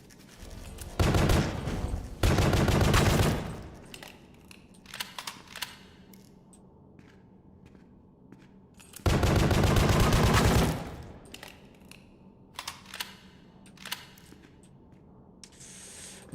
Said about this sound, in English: No, it's not a shotgun. It's throwing bolts.